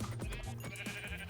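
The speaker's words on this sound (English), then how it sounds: "Look at that, we have a sheep!" A Minecraft sheep bleats several times in quick succession on a Skyblock island, short wavering baa calls layered over a steady game background, fairly faint and with no talk.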